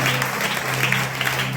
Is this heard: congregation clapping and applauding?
yes